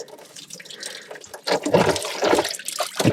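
Coolant gushes and splashes out of the engine block of an old International B414 tractor into a container, a close, fluctuating liquid rush that grows louder partway through, with no talking.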